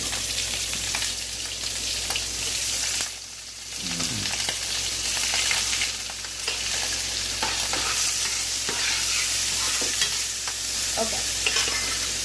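Two pounds of shrimp going into a hot pan, loud continuous sizzling and frying with occasional stirring and scraping, steady throughout with a brief dip midway.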